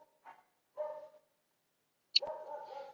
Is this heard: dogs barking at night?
yes